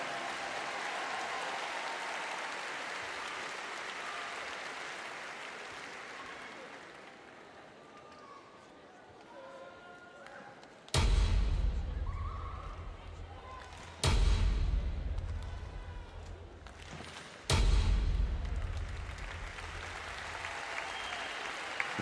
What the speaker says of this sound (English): we have the coup de bâton. Traditional opening to theatrical performances here in France.